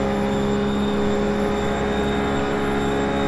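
A RUF race car engine in 6th gear at about 150 mph on the Daytona oval in iRacing drones loudly and steadily, a sustained high-pitched whine with strong harmonic tones and no change in pitch.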